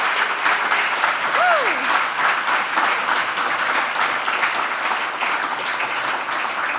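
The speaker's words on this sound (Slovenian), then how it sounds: "Dajmo jim zaploskati." An audience at a charity concert at a music and arts festival applauds, sustained dense clapping throughout, with a short whistle-like cry rising above it early on.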